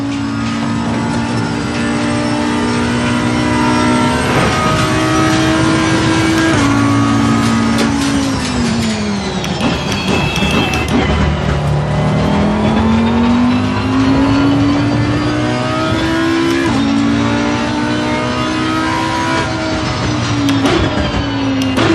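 A race car engine screams around Mount Panorama in Assetto Corsa Competizione, loud and close throughout, pitch climbing through the gears, dropping sharply under braking and rising again, with no pauses.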